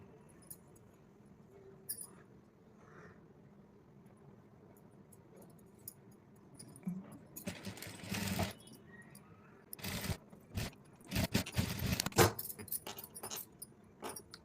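A sewing machine stitching invisible piping onto cloth, heard as bursts of fast mechanical whirring and clattering that start and stop, growing louder and busier toward the end, with quieter handling noises between runs.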